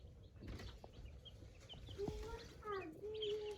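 A small brood of freshly hatched chicks, including silver-laced partridge and little Pekin bantams, peeps softly up close, scattered thin chirps over a low background hum, with a faint voice in the mix.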